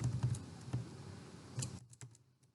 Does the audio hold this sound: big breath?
no